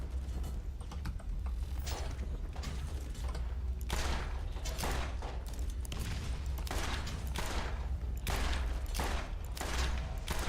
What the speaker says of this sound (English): Oh, you firing at me.